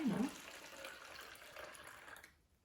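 Water and rice mixture poured through a cloth filter into a container, a brief louder splash at the start giving way to a steady, soft trickle that fades out near the end.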